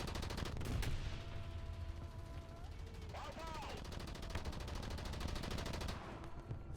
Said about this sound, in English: Machine guns that fail to hit anything.